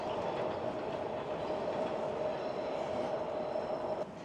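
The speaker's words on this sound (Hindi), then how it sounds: "उस तरफ से देखें ट्रेन ऊपर ऊपर चल रही है" An elevated train runs beside an airport in a steady, continuous rumble with faint rhythmic clatter, fairly loud and unbroken for several seconds before easing off, with no talk.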